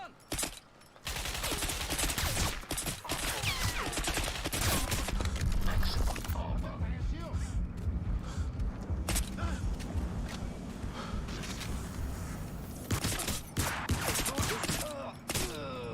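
Assault rifle gunfire in Crysis, dense rapid bursts of shots and clattering action over a constant loud din, with a short silent gap near the start and a voice speaking briefly now and then.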